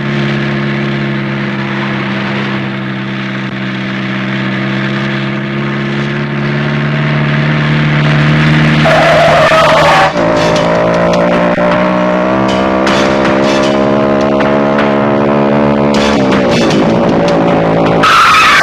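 A car roars off with its engine revving and its tires squealing in a long, continuous skid that rises and holds, loud and close, in a Hindi film scene.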